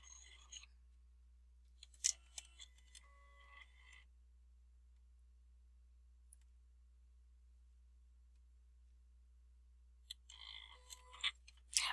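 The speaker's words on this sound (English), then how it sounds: "that is regular cardstock that is cutting right now" A Silhouette Cameo cutting machine slicing regular cardstock, heard as faint, sparse scraping and clicking bursts at the start and end, separated by long near-silent stretches over a low steady hum.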